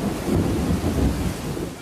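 Heavy rain pours steadily during a Northeast U.S. storm that brought flooding, with low rumbling thunder rolling beneath a dense, continuous wash of rainfall.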